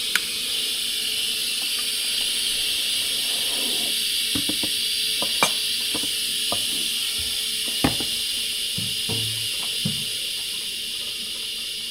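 A steamer gives off a loud, steady hiss of steam that runs unbroken and close throughout. Occasional soft clicks and handling knocks sit beneath it.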